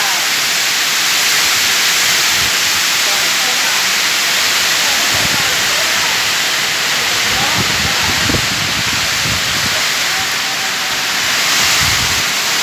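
Heavy rain pours down as a loud, dense, steady hiss that fills the whole clip, with occasional low thumps and rumbles beneath the downpour.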